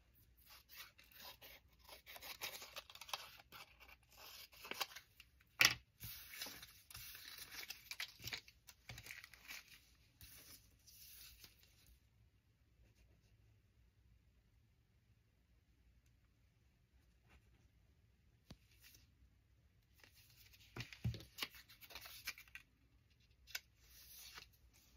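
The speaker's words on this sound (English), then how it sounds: "So I'll cut this bigger than the opening" Scissors snip through paper while a Raggedy Ann ephemera craft is made, in bursts of close, crisp cutting and rustling that break off into a long quiet stretch before a few more snips near the end. No one speaks.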